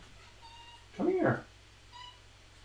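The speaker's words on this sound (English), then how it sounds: "I can't handle the cat meowing outside the door anymore" A cat meows loudly outside a door in one drawn-out cry, followed by a fainter short call, while a voice speaks briefly nearby.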